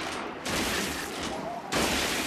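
Gunfire in Gears of War tearing into and breaking apart objects, a dense continuous burst of shots with debris crackle, loud and close, pausing briefly before resuming.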